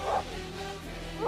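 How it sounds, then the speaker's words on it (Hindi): Fierce trained dogs in a bungalow compound beside a swimming pool give short, sharp barks at the start and end, with a lower growling tone between them, all fairly faint. "उन कुत्तों के भौंकने, जंजीरों के खिंचने और गुर्राने की आवाजें पूरे कंपाउंड में एक अजीब सी दहशत भर रही थी।"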